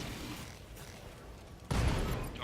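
Mech weapons fire on a target in the BattleTech video game, giving a quiet mechanical stretch followed by a sudden loud burst of impacts near the end.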